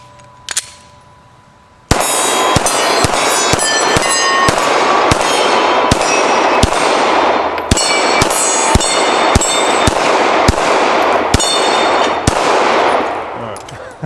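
Glock 45 pistol fired outdoors: after a faint knock and a short quiet stretch, about fifteen loud, sharp shots ring out in an uneven but fairly quick rhythm, each with a ringing tail.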